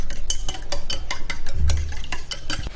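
Eggs being whisked with turmeric, salt and chili powder in a bowl for bread omelette, a brisk, steady rhythm of utensil strokes against the bowl, close and fairly loud with no talk.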